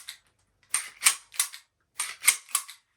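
A PSA 5.7 Rock Pistol being reassembled gives a run of sharp metallic clicks and snaps, one early and then two quick bursts of three, crisp and close with nothing else heard.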